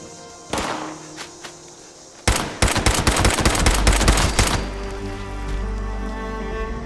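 Gunfire in the video game Fallout 76, a single shot followed by a loud rapid burst of automatic fire that fades into a rumbling tail.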